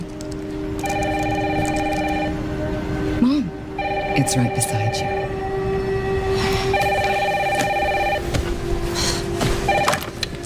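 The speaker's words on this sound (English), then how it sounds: "Mom, phone." A telephone in the Resident Evil 9: Requiem game trailer rings in repeated electronic bursts on a rainy night. Voices talk between and over the rings, with rain and room noise underneath.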